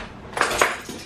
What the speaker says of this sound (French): je vais finir de ranger ma vaisselle, ma cuisine